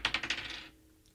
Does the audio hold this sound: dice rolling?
yes